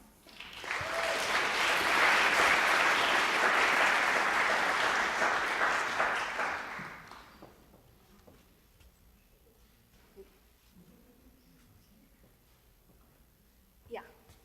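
An audience at a computer science lightning talk event claps loudly for several seconds to welcome a speaker, then the applause fades into a quiet room with faint scattered noises.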